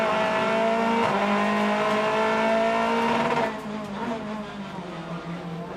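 BTCC touring cars circulate behind the safety car around the Knockhill hairpin, a loud sustained engine drone with shifting tones that drops off partway through as the cars ease past.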